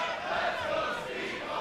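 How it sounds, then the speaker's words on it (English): Wrestling crowd in Canada at a TNA Rebellion 2023 event, a steady wash of cheering and shouting from a large audience that holds at an even level with no clear talk over it. "Feeling the support from the crowd."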